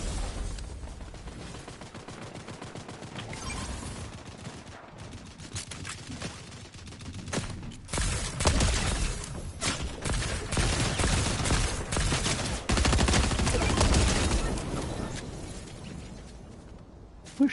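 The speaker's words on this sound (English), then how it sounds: "Who's shooting at me from the side?" Gunfire in the Fortnite video game, with rapid bursts of shots and mechanical clatter building into heavier sustained firing in the middle, then easing off.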